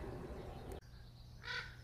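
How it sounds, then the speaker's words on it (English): Crows cawing as they fly over a garden, a brief burst of harsh calls near the end after a sudden thump, moderately near over low outdoor background noise. "As the crows fly over. They'll chime in a second, I'm sure."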